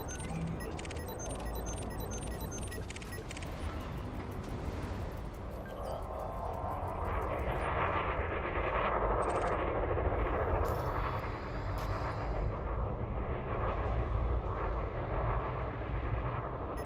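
Spaceship engines roar steadily as a ship leaves its landing pad and departs a station in a video game, a dense continuous rumble with a brief rising whoosh partway through.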